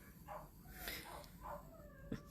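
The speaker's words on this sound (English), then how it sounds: "My dogs are downstairs barking." Dogs bark downstairs in a house, muffled and distant, with a few soft barks and yips spread across a quiet room with no speech.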